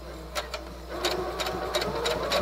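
Brother Project Runway sewing machine running at medium speed with the presser foot down, a steady fast mechanical whirr and clatter with rhythmic ticking bursts, close and continuous.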